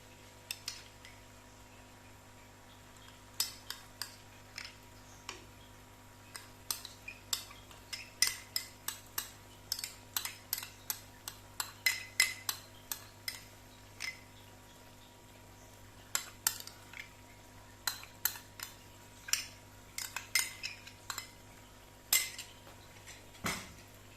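Metal spoon scraping and clinking against a pan as date halwa is roasted and stirred in ghee, with irregular bursts of sharp taps and scrapes over a steady low kitchen hum.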